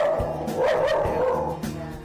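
Boksil, a pet dog, gives a few loud, close barks and yips in quick succession over a short burst.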